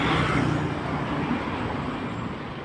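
Highway traffic heard while walking beside the road, a loud broadband wash of passing vehicles close by that slowly eases, with no talk over it.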